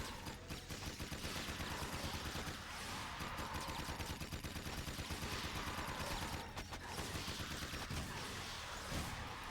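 Rapid gunfire from the video game Jak II, dense bursts of shots rattling almost without pause over about ten seconds, loud and continuous with brief gaps.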